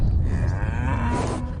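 A cow lows steadily outdoors on a rain-flooded farm, one long drawn-out moo filling the moment, close and loud, with no voices.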